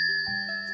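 A Korean brass yugi liquor cup rings out like a bell, a clear bright tone with steady high overtones that sustains evenly through the moment, close and alone with no voices.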